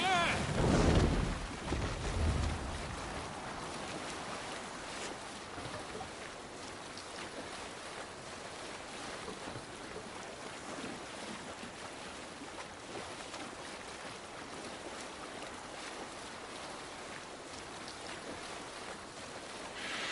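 Sailing ship gliding over ocean waves in Assassin's Creed Valhalla, a steady wash of water and wind with a louder splash at the start, continuous and fairly close.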